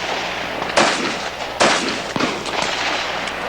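Sharp gunshots from Smith & Wesson firearms at an exhibition shooting show, three or four loud cracks spaced irregularly over steady background noise, each with a brief ringing tail.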